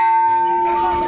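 A large bell at Kankali temple in Nepal rings out with a sustained, loud metallic tone that hums steadily with bright overtones and no voices over it.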